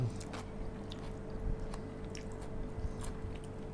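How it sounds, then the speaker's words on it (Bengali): Someone eats food with raw green chilli, soft wet chewing and biting sounds up close with occasional crunchy clicks over a quiet background. "একটু এমনি খাচ্ছি।"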